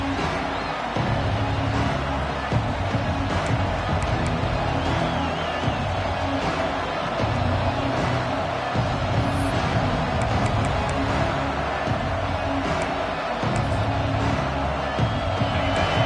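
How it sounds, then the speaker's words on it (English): A dense, loud stadium crowd roar at a football game fills the space continuously, a broad wash of many voices cheering without letup. "It's early, but this crowd is fired up. Listen to this noise here."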